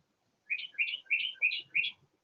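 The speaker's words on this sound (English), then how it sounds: "the birds are singing because they love this heat" A bird sings outdoors on a hot afternoon around 84°F: five bright, evenly spaced chirps in quick succession, clear and fairly close against an otherwise quiet background.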